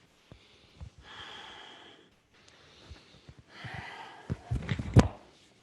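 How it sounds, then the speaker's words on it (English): Long, deep breaths drawn in and pushed out through the nose while holding yoga bow pose, soft rhythmic inhales and exhales near and quiet, ending in a sharper, forceful exhale. "just long, deep breathing"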